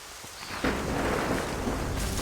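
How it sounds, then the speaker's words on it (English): Heavy rain pours and a thunderstorm rumbles in Assassin's Creed Rogue, swelling abruptly into a loud, steady roar of downpour after a quieter opening moment. "The storm's getting worse."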